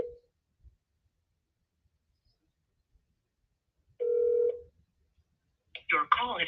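A telephone call being placed, with a short tone at the start and a clear electronic ring or dial tone a few seconds later, then a brief voice at the end; long near-silent gaps fall between the sounds.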